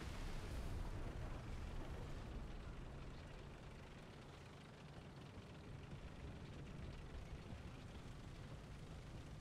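Tank cannon fire in War Thunder ground battles, aimed at a French AMX-13, comes as a dense, rumbling barrage of blasts with a loud burst at the start and sustained battlefield roar throughout.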